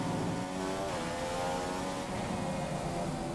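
An F1 race car in the F1 2015 video game rounds the final corner of the Chinese circuit, its engine a sustained high whine that shifts pitch slightly and stays loud and steady with no voices.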